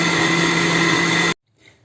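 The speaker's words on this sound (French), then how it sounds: "on met le tout dans notre mixeur ou notre blender et après on mixe le tout" A kitchen blender whirs loudly and steadily while puréeing cooked vegetable soup, then cuts off abruptly, leaving near silence.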